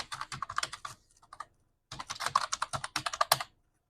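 A Gmail ID being typed on a computer keyboard: close, crisp keystrokes in a quick burst, then a short pause with a few scattered taps, then another rapid run of keys.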